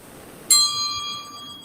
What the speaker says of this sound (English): the timekeeper will ring the bell at the end of the first minute